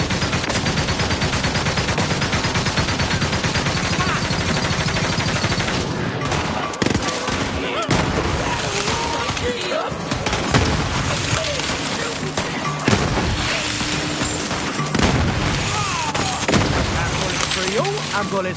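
Loud, sustained Borderlands 3 gunfire against Devil Riders, with rapid machine-gun bursts, booming blasts and crashes running nearly the whole time, mixed with shouted game voices.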